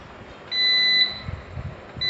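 Pressing the switch on a UPS being repaired sets off a steady high electronic beep that lasts about half a second, then a few soft handling clicks follow before a second beep starts.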